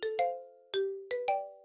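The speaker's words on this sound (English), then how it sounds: "How can I turn off that notification?" A phone notification chimes repeatedly, four or five bright bell-like tones in quick, uneven succession, each ringing out and decaying, clear and close with no talk.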